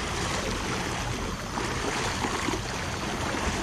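Broad, steady rush of a swollen river running toward a waterfall after a storm, a dense unbroken roar of flowing water close by with no voices.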